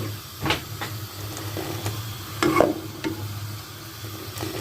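Masala chai of milk and water being whisked in a pot over a stove, with a steady simmering hiss and occasional sharp scraping and clinking strokes against the pot.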